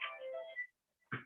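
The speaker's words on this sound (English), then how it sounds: "It's a ringtone that my wife has." A mobile phone ringtone plays faintly in a conference hall, a short melodic burst that pauses and starts again.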